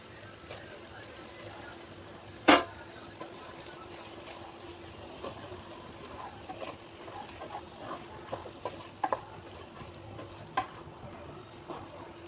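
Soya chunks and capsicum mix stirred into simmering oil-topped curry gravy in a Telugu home kitchen: faint steady sizzle with soft scraping stirs and one sharp clatter near the start, then a few light utensil taps, no talk.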